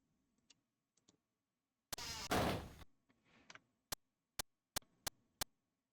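Iron door opening in the Tower of Myraglen video game, a single harsh grinding scrape lasting about a second, followed by a run of five sharp evenly spaced clicks in near silence.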